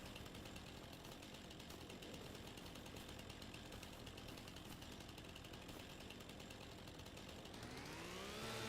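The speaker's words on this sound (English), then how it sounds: "It is a super powerful chainsaw." A powerful chainsaw in Farming Simulator 25 roars steadily through timber, a dense continuous buzzing drone lasting several seconds that swells and rises in pitch toward the end.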